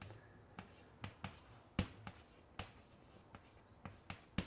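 Chalk or marker tapping and scratching on a lecture-room board in quick, irregular strokes, close and fairly faint, with short pauses between bursts and no talking.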